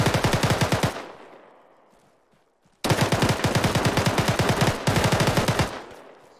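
Automatic gunfire in ArmA 3 during a Havoc 2 platoon mission: two long, loud, rapid-fire machine-gun bursts split by a decaying echo tail, with no voices.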